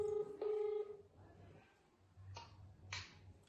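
A phone call to a sister is placed on a mobile handset: a few loud dial tones beep at the start, then quieter rhythmic ringing pulses and short clicks follow at low volume, with no voices.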